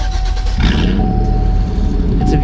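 A V8 car engine in the Roblox game Greenville starts up and settles into a loud, steady idle rumble with a faint tonal hum, continuous and close throughout.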